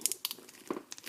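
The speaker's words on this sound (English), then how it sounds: "I'll just tape that piece down too" Close crinkling and crackling as heavy duty tape is pulled and smoothed down onto a folding chair cover, in a few short bursts.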